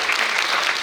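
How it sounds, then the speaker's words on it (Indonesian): Lively audience applause for Om Bas at an intercultural student camp, a dense, close, steady wash of clapping filling the whole moment with no speech over it. "Sekali lagi aplaus yang meriah untuk Om Bas."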